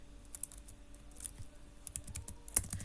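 Quick bursts of typing on a computer keyboard while HTML, CSS and JavaScript code is entered, with light clicky keystrokes that come in irregular clusters and a sharper key tap near the end, close and fairly quiet.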